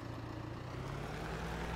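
A tractor engine idles in Farming Simulator 17, a low steady rumble humming faintly and evenly without other sounds.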